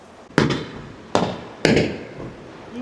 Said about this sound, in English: we are going to see if we can see the fireworks